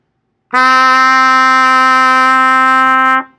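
A single sustained trumpet D note, played with the first valve and third valve slide out, held steadily for about three seconds, bright and loud, starting cleanly and fading off at the end.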